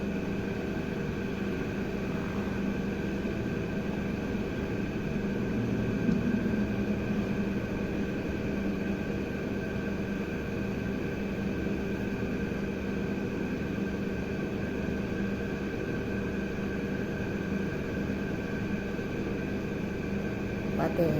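A coconut oil extraction mill grinds coconut kernels fed in gradually, about 13 kilograms in all, with a steady, dense mechanical drone and hum that runs unbroken and fairly loud throughout, with no voices.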